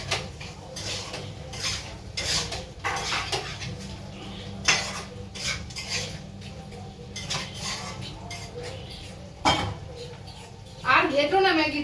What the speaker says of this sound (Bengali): আর ঘেটো না ম্যাগিটা। ম্যাগিটা একদম ইয়ে হয়ে যাবে।